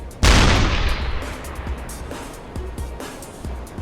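A U-boat deck gun in the submarine game UBOAT fires a shell with one loud, close boom that rolls off into a long decaying rumble, followed by fainter distant thumps and impacts.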